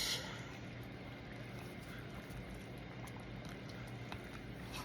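Black casting powder is mixed in a pot, giving a steady, close, textured swishing and churning that continues evenly throughout with no pauses.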